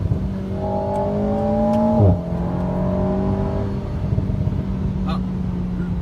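An Alpine A110 sports car accelerating hard along a winding road, the engine note climbing loudly, dropping sharply at a gear change, then rising again in a steady pull.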